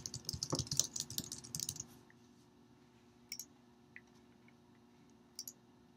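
A burst of rapid keystrokes on a computer keyboard, close and crisp, runs for about two seconds, then a few scattered isolated key taps follow in near silence.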